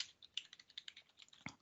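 An email address being typed on a computer keyboard, heard as a quiet, steady run of distinct key taps at an even pace with one slightly heavier stroke near the end, no speech.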